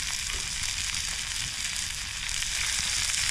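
A steak sizzles and fries on a Boundless Voyage camping stove, a steady close crackle with no talk over it.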